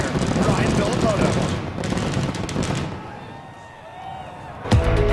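Fireworks crack and pop in a dense barrage over a cheering arena crowd at the Monster Energy Cup in Las Vegas, loud at first, then tapering to scattered bursts, with a commentator talking over it.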